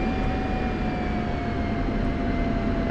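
Steady jet engine drone from an aircraft taxiing out in a combat flight simulator game, a continuous whine with a sustained high tone over broad rumble, loud and constant throughout.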